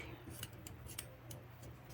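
Scissors snipping off leftover yarn on a crochet sunflower coin purse, several quick soft clicks in close succession over faint room noise.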